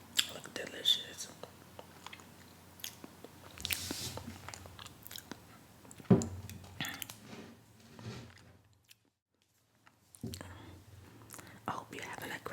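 Fettuccine alfredo with salad is eaten up close in a quiet room: soft wet chewing, squishy bites and occasional crunches from the salad. Faint whispering sits between the mouthfuls, and there is a short silent pause partway through.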